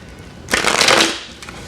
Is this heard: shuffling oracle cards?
yes